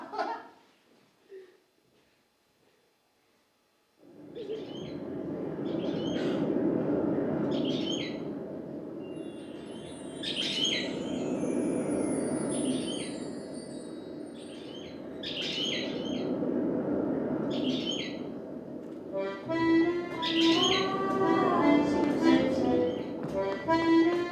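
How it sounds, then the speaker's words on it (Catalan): Birds gather at a snow feeder in a yard, with a steady chorus of chirps, tweets and squawks under a soft background wash that grows livelier near the end. "he penjat la caixa neu i el pati es comença a omplir d'ocells"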